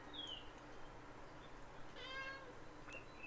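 A female kitten mews softly, faint high chirpy meows at a distance over steady background hiss.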